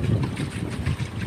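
A small boat moves over water with gusting wind buffeting the microphone, a low, uneven rumble and splashing close by, with no voices.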